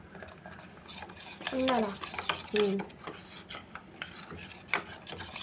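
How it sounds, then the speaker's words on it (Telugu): A mixture is stirred in water in a pot to work out lumps while making tomato chutney, with rhythmic scraping and clinking of a spoon against the metal and a brief voice speaking partway through. "ఉండలు లేకుండా మంచిగా కలుపుకోవాలి."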